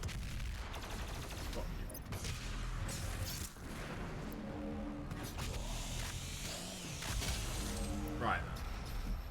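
A rocket launcher fires in the fast-paced shooter Doom Eternal amid a dense barrage of gunfire and blasts, loud and continuous, with a person talking over the action.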